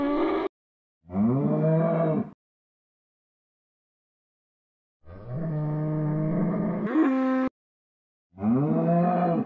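Minecraft cows moo in four loud, drawn-out calls separated by silent gaps, as they are fed wheat in the blocky video game.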